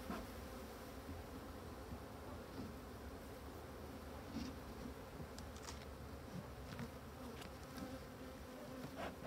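A colony of hybrid honey bees, agitated by a visitor, hums in a dense, continuous buzz close to the listener, with individual bees zipping past now and then over the steady drone.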